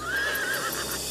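A horse, the sacrificial steed of the Ashvamedha rite, gives a loud, close whinny with a rising and falling high-pitched cry over a dense, noisy background.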